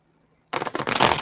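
A single quick burst of tarot cards being shuffled, close and crisp, rising out of near silence for about a second.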